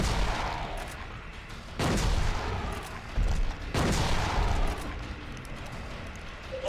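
Heavy gunfire in the Silent Hill survival horror game, loud sustained bursts of shots that swell twice over a dense, noisy game soundscape, with no talking.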